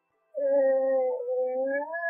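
A female dog howls in a drawn-out, wavering tone, dipping briefly and rising again after a moment of silence.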